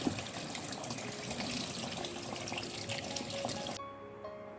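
Tap water runs steadily over an orchid being rinsed after its moss is removed, a close, hissing wash that cuts off abruptly near the end.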